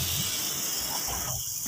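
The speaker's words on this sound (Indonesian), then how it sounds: "gorenglah pisang dengan api yang sedang hingga warna pisang kuning keemasan" Banana nuggets frying in oil over medium heat make a loud, close, continuous sizzling hiss that holds steady throughout, with no voices.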